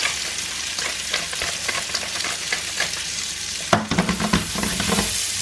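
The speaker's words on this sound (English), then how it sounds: "Potatoes are going into butter, which have already been part-boiled." Part-boiled potatoes frying in melted butter in a pan, a steady close sizzle with crackling spits throughout and a brief louder burst of stirring near the end.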